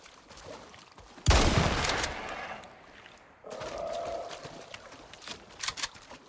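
A shotgun loaded with explosive shells fires in Icarus, one loud booming blast with a long rolling decay, followed by a quieter second burst and some scattered crackling.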